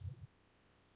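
Single soft computer mouse right-click while working in SQL Server, a brief faint tap followed by quiet.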